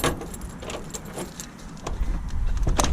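Keys jangle and clink repeatedly near a MAN truck horse box, sharp metallic rattles coming in irregular bursts over a low, rising rumble of background noise.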